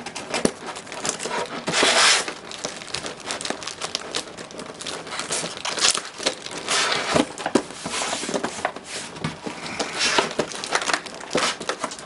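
A tape-wrapped game controller is pulled from crinkly plastic packaging, giving continuous close crackling, rustling and tearing with a few louder crunches and no talk.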